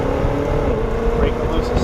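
A BMW XM pulls hard off a launch-control start, its engine a steady loud drone with a climbing tone, with someone talking over it inside the cabin.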